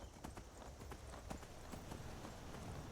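Horse hooves clip-clop steadily at a brisk, regular pace in Skyrim survival mode, close and fairly loud over a constant noisy background.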